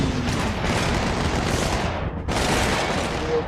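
Constant heavy gunfire from a first-person shooter video game, a dense, loud burst of rapid shots that roars almost without pause, dropping out for a split second near the end before resuming.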